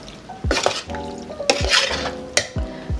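Macaroni is stirred gently in a pot over very low heat, a spoon scraping and thudding against the pot in several separate strokes, close up and fairly loud, with no talking.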